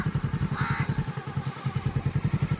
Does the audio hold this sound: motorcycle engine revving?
yes